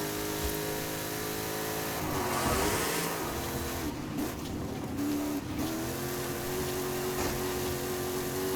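A Saleen F150 truck engine revs hard while driving off-road in Forza Horizon 5, a loud continuous roar that rises and falls with gear changes across the whole stretch.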